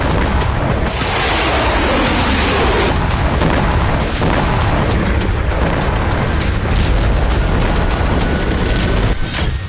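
Missile strikes explode over Kyiv in a Russian attack, a loud, continuous wall of roaring booms and crackling blasts that barely lets up, with no voices.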